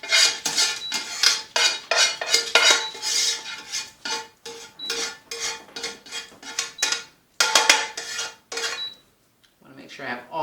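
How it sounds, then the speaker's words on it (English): A utensil repeatedly scrapes and clinks against a pan as pasta with garlic is pushed out into a serving bowl, a rhythmic run of close metallic strokes with brief pauses and no voices. "So I'm going to put this in my serving bowl."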